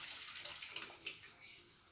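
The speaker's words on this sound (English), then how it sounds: "I'm going to pour all the water into the bowl" Soaking water from a bowl of beans pours steadily through a strainer into a bowl, a continuous close splashing trickle that runs the whole time without pause.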